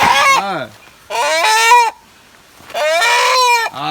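A rooster crows and a duck calls in three loud, close bursts separated by short silences, with no talking.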